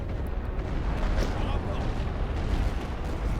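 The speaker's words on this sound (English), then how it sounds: "Gonna hit these guys with some light artillery just to keep it coming." Light artillery fire in a WWI strategy game set on the Western Front, heard as a dense, continuous rumble of booms and blasts that stays steady and moderately loud throughout.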